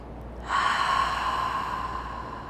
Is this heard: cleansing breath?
yes